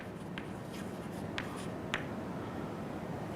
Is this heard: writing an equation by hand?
yes